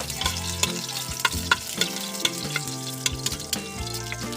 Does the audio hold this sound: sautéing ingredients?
yes